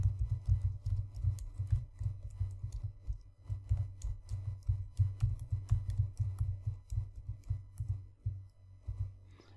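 Rapid, uneven keystrokes on a computer keyboard as a blog post is written, close and fairly soft, continuing steadily with no voices.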